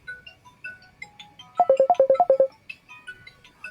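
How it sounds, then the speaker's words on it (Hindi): A phone ringtone plays a quick run of bright, bouncing melodic beeps in the middle, with softer scattered tones before and after, clear and close with no one speaking. "सॉरी, यहाँ पे एक फ़ोन आ रहा है।"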